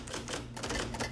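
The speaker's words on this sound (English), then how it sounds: "He plunks out his commentaries on an old typewriter" Rapid clacking keystrokes on an old typewriter, a close, steady run of mechanical strikes with no talking.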